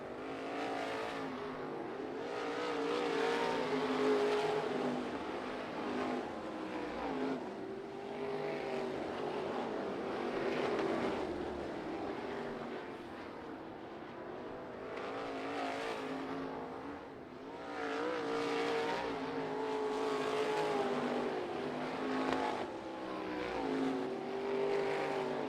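Sprint cars on a dirt track roar in a sustained, loud pack, engines swelling and fading as they pass through the turns, with no talking present.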